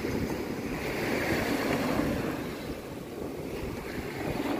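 Ocean surf rolling in at high tide and splashing against a rock on a beach at Fort Clinch, a steady broadband wash of water with wind buffeting the microphone, no voices.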